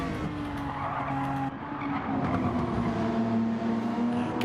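BMW race car in a racing video game at Fuji Speedway, tyres squealing in long sustained skids as the tail steps out through the final corners, layered over a steady loud engine drone.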